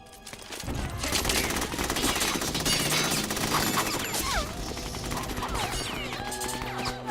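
Sustained bursts of gunfire from the video game Metal Gear Solid 2 on PS2, loud and dense like a machine-gun fusillade, with game voices shouting over the shooting.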